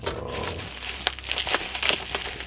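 Plastic wrap being torn open on a model kit, a close, quick run of crinkling and crackling bursts.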